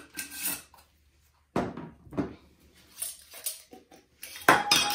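Fine ground walnut shells are scooped into soap molds with scraping, rattling bursts of a scoop against containers, separated by quiet gaps, close and fairly loud.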